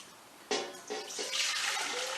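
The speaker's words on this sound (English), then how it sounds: "We're going to go ahead and drain this water." Rinse water pours out of a bowl of rice into a strainer in a sushi kitchen. A sudden gush starts, then splashing and trickling continue in uneven waves, close by, with no talking.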